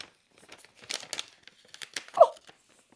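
Packaging of an MSQC advent quilt box being opened by hand: sparse crinkling and tearing rustles, with a louder cluster of crackles near the middle and a sharp rip at the end, close and otherwise quiet.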